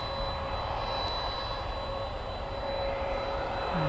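A UPS jet aircraft departs a DFW runway at night, its engine a steady, moderately distant roar holding evenly throughout.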